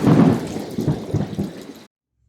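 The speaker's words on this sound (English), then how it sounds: "There's a sudden flash of lightning and a peal of thunder." A thunder sound effect in a school stage play rumbles in as a loud, low peal with rolling bursts that fade over about two seconds and then cut to silence.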